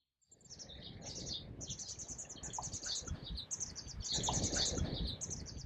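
Wetland birds at Dolline wetland chirp steadily at a moderate distance, high bright calls repeating in quick clusters over a soft, continuous background of natural ambience.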